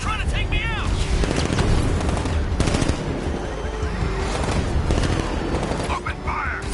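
Dense machine-gun fire and booming blasts from a Batman video game rattle on continuously, loud and close, with shouted voices breaking through the barrage.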